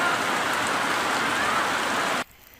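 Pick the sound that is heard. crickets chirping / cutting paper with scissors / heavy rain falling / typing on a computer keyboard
heavy rain falling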